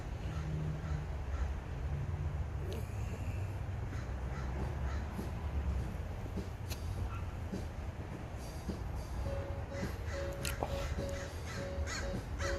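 Crows caw while flying around outdoors, scattered calls over a continuous low rumble resembling a passing train, with occasional squeals.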